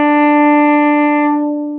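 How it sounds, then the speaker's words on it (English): A violin plays a single sustained long bow stroke on the open D string, a clear steady tone held nearly two seconds and fading slightly at the end, alone and close. "And then another long bow on open D."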